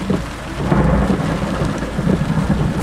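Thunder from lightning during a Florida summer storm rolls as a deep, sustained rumble, loud and close, mixed with a steady hiss of heavy rain, and no talking.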